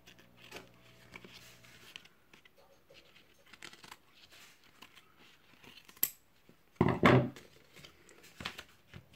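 Scissors snip through excess paper while an album is being bound, with soft paper handling and light rustles before a sharp, louder burst of cutting near the end.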